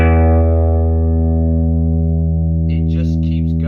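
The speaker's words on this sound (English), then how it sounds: "So if I just pluck an E," A PRS 594 electric guitar rings out a single plucked E note through a quietly set amp, sustaining steadily at even loudness for several seconds, with faint talk and a bit of string noise near the end.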